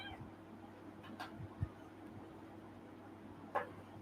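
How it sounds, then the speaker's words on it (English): A small kitten on a farm gives two short meows, one at about 1.6 seconds and a higher one near 3.6 seconds, close by over a steady low hum. "This little kitten right here just randomly appeared on our farm."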